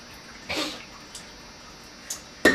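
Tap water goes into a JOBO film developing drum for a wash, heard as a few short splashy bursts of filling and sloshing separated by quieter pauses, fairly close and with no talking.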